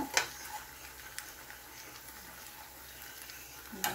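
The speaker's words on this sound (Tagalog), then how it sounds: "Isunod natin yung ating prinitong tilapia." Fried tilapia goes into a pan of spicy coconut-milk sauce with pechay and squash, giving a soft steady sizzle with a few sharp clicks of utensils at the start and end.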